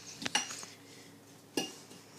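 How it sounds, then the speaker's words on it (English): Butter being mixed into crust crumbs in a bowl, a few quiet clinks and scrapes of a utensil against the bowl, two brief sharper knocks separated by soft rustling, faint and close. "Just casually kind of mix it. Make sure all the butter's spread evenly."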